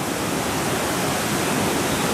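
The flooded Ravi river rushes past in a steady, loud, unbroken roar of churning water, close and constant with no voices over it.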